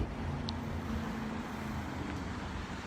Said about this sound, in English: Nice quiet running vehicle.